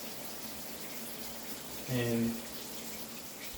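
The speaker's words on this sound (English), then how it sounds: "recording live from the shower" Water running in a shower forms a steady hiss throughout, and a person briefly speaks partway through.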